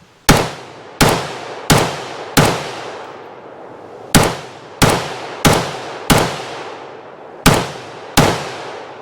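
A preban Steyr AUG semi-auto bullpup rifle fires Phoenix ammunition from its original magazine, about eleven sharp, loud shots in uneven clusters, each with a short reverberant decay.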